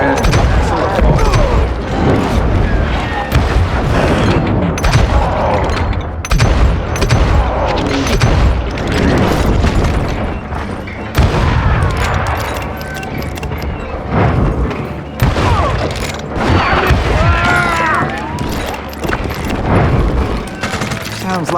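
Gunfire from a crowd of hired guns in the video game Call of Juarez: Gunslinger, dense continuous volleys and booms with clattering action, loud throughout, with a voice talking at times.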